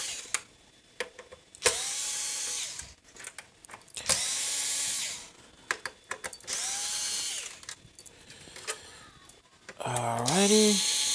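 Power screwdriver backing screws out of a game console, in several whirring bursts of a few seconds each separated by pauses and small clicks, close and loud.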